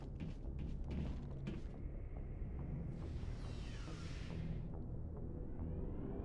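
The elevator aboard the Normandy in Mass Effect starts its descent. A low mechanical rumble and creaking hum run under a sliding door mechanism, with a rising then falling whir that fades out.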